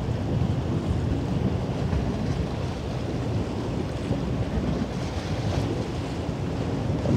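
Wake waves from a pilot boat wash and surge on the Elbe, a continuous, loud rushing roar mixed with wind buffeting the microphone, with no voices.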